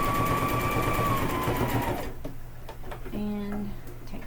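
A sewing machine whirs steadily while back stitching fabric for a casserole carrier, then stops after about two seconds, leaving quieter clicks and mechanical handling noises up close.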